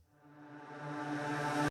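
A backwards-played fragment of a sung vocal forms a riser effect, a smooth tonal swell that steadily builds in loudness and brightness for under two seconds, then stops sharply at its peak.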